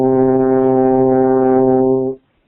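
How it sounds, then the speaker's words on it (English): A French horn sounds a single sustained C, rich in steady harmonics, held for about two seconds at even loudness before stopping cleanly. "So here's the note C that I'm going to play on the horn."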